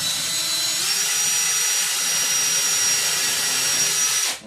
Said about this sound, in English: the bit I'm using right now is the one that makes the pilot as well, so you can put your screws in